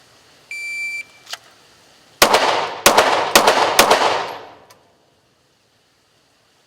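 A shot timer beeps, then a handgun fires four rounds one-handed with the strong hand, sharp loud reports spaced about half a second apart, ringing briefly after the last shot.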